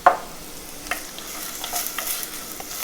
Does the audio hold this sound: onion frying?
yes